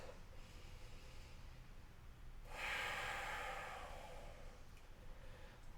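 One long, audible breath during a yoga flow, a soft airy exhale that swells and fades over a couple of seconds against quiet room hush.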